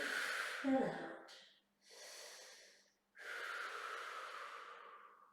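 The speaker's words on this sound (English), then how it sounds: "Nice deep breath in and out." Deep, audible breaths during a Pilates hold, a long exhale followed by two further breath cycles with short quiet gaps between them, close and fairly soft, with no voice over them.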